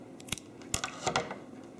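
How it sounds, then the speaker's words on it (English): Scissors snip through a ribbon with beads attached, making a few faint, crisp cuts spaced apart in a quiet room. "I'm going to cut it off right there."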